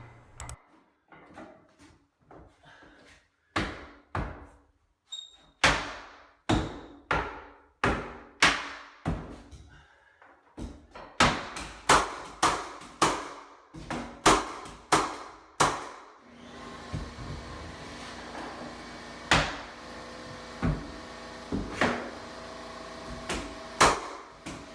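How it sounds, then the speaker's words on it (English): A flooring nailer and face nailer drive nails into floorboards across a room: about twenty sharp, loud bangs in an uneven rhythm, some in quick runs, over a steady background hiss in the latter half with no talk. "Switch back to the flooring nailer and then continue like that all the way across the room"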